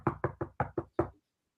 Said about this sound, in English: Someone's knocking at your door.